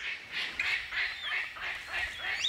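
A palm cockatoo in Australian rainforest gives a run of about five harsh, honking calls in steady rhythm, loud and close, with no other sounds around them.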